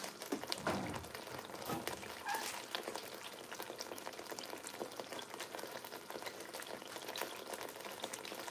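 Jollof rice sauce simmers in oil on low heat with a steady soft bubbling and sizzling crackle, a few louder pops and stirring clinks early on, continuous and close.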